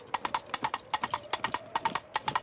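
Coconut halves clacked together to mimic trotting horse hooves, a brisk, even clip-clop rhythm of hollow knocks, close and clear with no talk.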